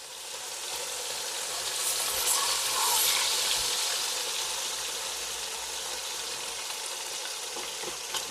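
Chicken fries in a pot with garlic for a Jamaican-style brown stew, a steady dense sizzle with crackling and faint stirring throughout, no talking.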